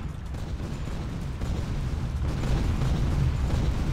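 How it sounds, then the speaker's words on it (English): Artillery fire in the video game The Legend of Alfur, a dense continuous rumble of explosions building slightly louder over a few seconds, with no talk. "Shalnawaz got killed by the artillery fire"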